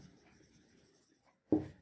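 Brief, quiet scratching of writing on a classroom board, followed by a short louder scrape near the end.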